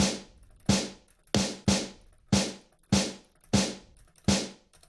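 A heavy, punchy layered snare hit tuned to D sharp, repeated eight times at a steady pace, each crack loud and bright with a short decaying tail, no other sounds.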